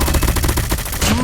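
Loud, rapid automatic gunfire rattles in a dense stream during a shooting video game, aimed at the player, with a short rising tone near the end.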